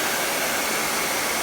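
A hair dryer blowing continuously during a blow-dry of hair, a steady loud whooshing hiss of air and motor with no talking.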